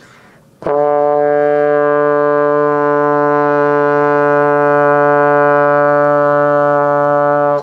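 A beginner brass instrument sustains a single note D: a brief breathy attack, then a steady, bright, harmonically rich tone held evenly for about seven seconds, loud and close, with no talking.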